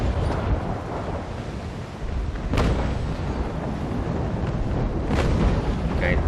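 Heavy booming broadside volleys from sailing warships in Naval Action during a Trafalgar sea battle, the HMS Victory firing, with deep rumbling blasts and sharp cracks around 2.6 and 5.2 seconds, continuous low roar throughout.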